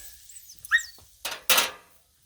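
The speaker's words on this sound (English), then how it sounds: "That's Baja the Wonder Dog, our co-host. Expressing her opinion." Baja, a pet dog in a kitchen where shrimp fried rice is cooking on a Blackstone griddle, gives a short high squeaky whine followed by two sharp barks, close and fairly quiet, with no talking.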